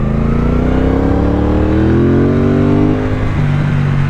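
A 2017 Triumph Bobber motorcycle engine pulls hard through a long first gear, loud close-up exhaust note rising steadily in pitch, then easing briefly near the end.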